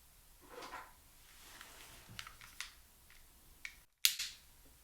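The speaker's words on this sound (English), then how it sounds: "So I'm going to slip this into your drawer here" A small item slipped into a wooden night table drawer, with soft close handling taps and a sharp drawer knock near the end, quiet and close in a hushed room with no talking.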